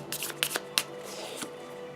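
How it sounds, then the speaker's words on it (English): A deck of game cards for the Kingdom Death Monster board game is shuffled close by, with several quick riffling bursts and soft card snaps over about two seconds. "I did shuffle this"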